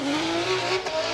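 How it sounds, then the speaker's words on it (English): Drift car's 2JZ engine exhaust blaring at high revs during a drift competition, a loud sustained rasp with a slight pitch rise and a brief dip near the end, no talk. "very consistent with that exhaust note"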